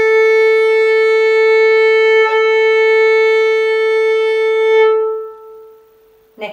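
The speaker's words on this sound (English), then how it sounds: "So I'll play you some tuning notes, the A string first." A violin's open A string sounds a long, steady bowed tuning note, bright and rich in overtones, held for about five seconds before fading, with a faint sound at the very end.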